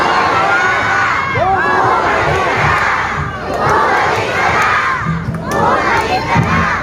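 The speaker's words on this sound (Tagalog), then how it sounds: "Kayo, sumisigaw na bumalik" A large crowd shouts and cheers loudly, calling for a speaker to come back, the massed voices surging in several swelling waves and staying dense throughout.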